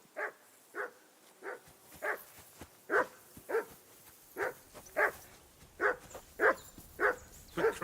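In Kingdom Come: Deliverance II a dog barks about a dozen times in a steady, evenly spaced rhythm, loud and close, with no speech over it.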